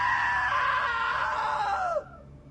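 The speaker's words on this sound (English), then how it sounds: "Now that was a great scream." A long sustained scream from a video game character in What Remains of Edith Finch, loud and close, holding steady before bending downward and cutting off abruptly after about two seconds.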